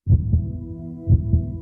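A healthy human heart beating, two steady lub-dub pairs about one second apart, deep, muffled and close, with a faint low hum underneath.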